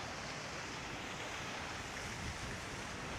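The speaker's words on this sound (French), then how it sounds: "Une petite chute d'eau ici" A small waterfall by a hotel pool gives a steady, dense rushing wash of falling water, constant and fairly near, with no voices.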